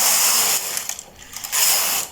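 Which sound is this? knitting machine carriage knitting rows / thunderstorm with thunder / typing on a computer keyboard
knitting machine carriage knitting rows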